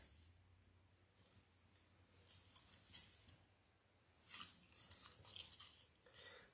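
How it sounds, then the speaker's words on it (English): Scissors snipping the small stem of greenery while assembling a floral cross wreath: a few quiet crisp metallic snips in two clusters, close and faint over a low background hum. "I'm just cutting the little stem off."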